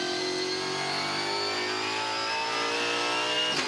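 A race car at Phillip Island roars past under acceleration, its engine pitch climbing steadily and loudly, heard up close with no talk.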